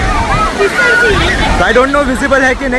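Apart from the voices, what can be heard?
Niagara Falls waterfall roaring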